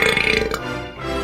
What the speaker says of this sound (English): Did not expect that big of a stereo burp right into my earlobes